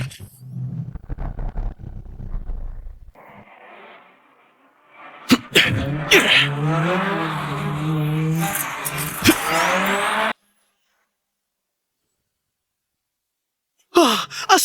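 A race car drifts hard through a corner, tires squealing in sweeping pitch-bending whines over engine roar, loud and close, with short breathy vocal sounds before it and abrupt silences between bursts.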